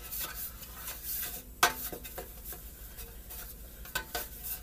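A pan being greased with oil while making biscuits, soft rubbing and scraping strokes with a few sharp metallic clinks of utensil against pan, close and quiet.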